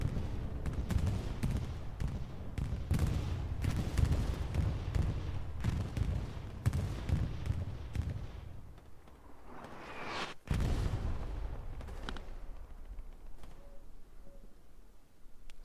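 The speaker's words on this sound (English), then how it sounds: "Looks like an OFIN bombing run coming right across the red and blue line." Bombing run in Hell Let Loose during a competitive RAGE vs OFIN match: a dense run of booming blasts and gunfire rattling close, then a single sharp heavy explosion, followed by quieter scattered shots and rumble.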